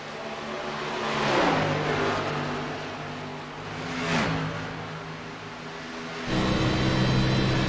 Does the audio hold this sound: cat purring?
no